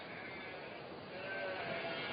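Sheep bleat on a South Australian pasture, faint wavering cries over a flat, hissy, band-limited archival recording with no talking.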